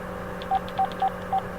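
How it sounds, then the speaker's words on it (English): A phone on speaker dials a number, sending four short, clean touch-tone beeps at an even pace over a steady low hum. "So I have my phone, I'll put it on speaker, and I'll call it"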